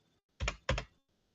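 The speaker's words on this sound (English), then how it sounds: "I tried to type it in here" A computer keyboard gives two quick, close keystroke clicks in an otherwise quiet room.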